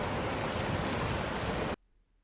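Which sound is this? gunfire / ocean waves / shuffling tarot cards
ocean waves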